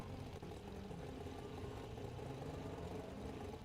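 A race car engine idles steadily at a Queensland Raceway endurance event, a constant low rumble and whir with no pauses, fairly faint and even throughout.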